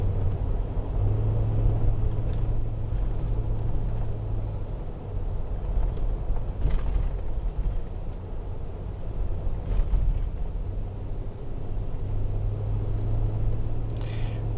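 A car rolls slowly up the road toward the clubhouse at Cliffs at Keowee Falls South, a low steady engine and tyre rumble heard from inside the cabin with a faint hum and occasional bumps.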